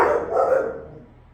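A single muffled dog bark, fairly close and moderately loud, trails off into a brief fading echo.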